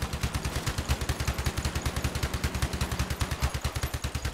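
Rapid automatic gunfire rattles steadily from guns mounted on a player-built tracked vehicle, the Growl on small tracks, in a video game, a fast even stream of loud shots with no talk.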